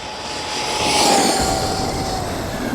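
RC car racing by at full throttle on a straight, a loud sustained motor whine with a steady high tone that swells as it nears, then holds.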